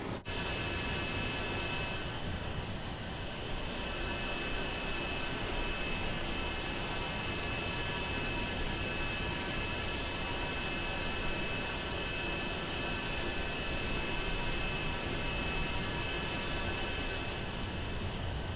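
A Falcon trijet executive jet in Microsoft Flight Simulator 2024, its three engines roaring steadily and loudly with a high whine on top while it taxis and takes off, an unbroken drone with no talking.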